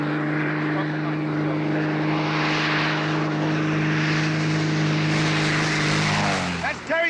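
A propeller airplane drones loudly and steadily overhead, its engine hum sustained throughout before dropping off near the end, with people talking faintly underneath.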